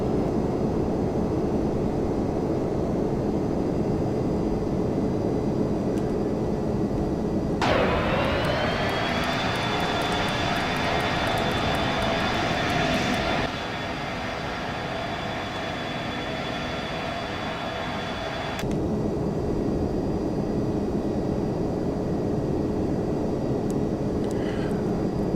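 An airliner taxis in the Prepar3D flight simulator with a steady engine drone that rises into a sustained higher whine, then settles and continues evenly throughout, with no talking.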